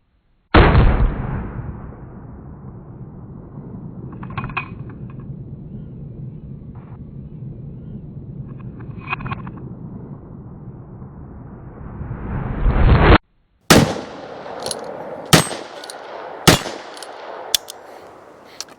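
Several sharp, loud gunshots from a Ruger Super Wrangler .22 Magnum revolver fired at a bottle, spaced about a second apart near the end and each ringing briefly after an earlier sustained roaring stretch.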